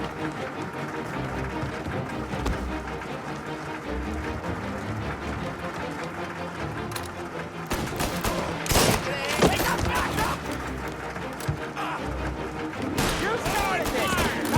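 Rapid gunfire and explosive bursts in a 1930s gangster shootout from Mafia Definitive Edition, dense overlapping shots growing louder and busier in the second half, with shouted voices mixed in.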